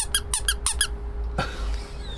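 A little rubber duck sitting atop a cocktail gives a quick run of five or six sharp, high squeaks, close and clear, followed by a brief rushing burst of noise.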